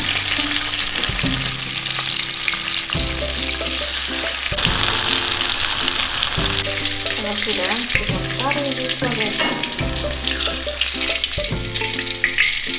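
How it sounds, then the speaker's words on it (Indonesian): Chili, tomato, shallot, candlenut and shrimp paste fry in hot oil with a continuous loud sizzle, broken by stirring scrapes and shifting crackles, while a voice speaks briefly over the cooking. "Untuk bahan-bahannya kita goreng dulu ya Bun, semuanya."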